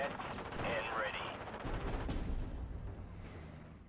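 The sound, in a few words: rocket strike from video game Steel Division: Normandy 44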